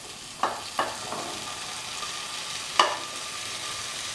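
A spatula knocks against a pan while pumpkin, potato and green peas are stirred, with several sharp scrapes and taps over a soft steady sizzle.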